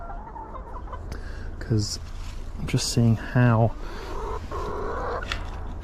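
Chickens cluck in a backyard garden coop, with a couple of short, bright bursts of clucking around the middle, while a person talks over steady outdoor background noise.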